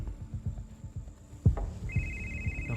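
A phone rings with an incoming call, a steady electronic tone entering partway through and holding over a low, pulsing background throb.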